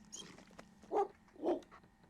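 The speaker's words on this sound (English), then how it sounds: "Alright, so they do have the dog barking that way." A zombie dog in the video game The House of the Dead Remake lets out two hoarse, snarling barks about half a second apart over faint game background noise.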